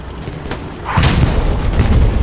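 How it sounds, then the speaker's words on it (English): A Panzer IV tank cannon firing during a multiplayer World War II video game match, a single deep booming blast with a rumbling tail, loud and close, with no voices. "great shot by the Panzer IV"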